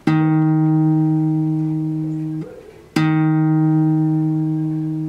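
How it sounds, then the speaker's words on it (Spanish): A guitar's fourth string is plucked twice with the first finger on the first fret, each note ringing clear and sustained and then slowly decaying, with a short gap before the second pluck. "Vamos a sonar la cuerda."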